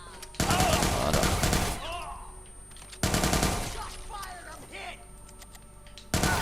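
Gunfire from weapons in the video game Watch Dogs 2: two loud, rapid automatic bursts with a shorter burst at the end, each trailing into quieter mechanical sounds.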